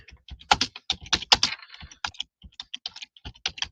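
Rapid, uneven keystrokes clatter on a computer keyboard during a live stream: close, crisp clicks in quick bursts with short pauses, and no voices.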